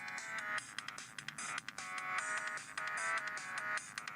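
Short looping game music from Asphalt Urban GT playing through a Motorola Razr phone's tinny speaker, a bright repeating chiptune-like melody cycling steadily with no voices.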